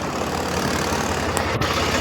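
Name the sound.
Swaraj tractor engine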